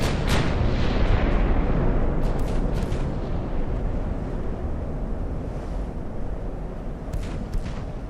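Naval gunfire in Ultimate Admiral: Dreadnoughts, a loud continuous rumble of booming shots and explosions rolling over a steady low roar, with sharper bursts near the start and end.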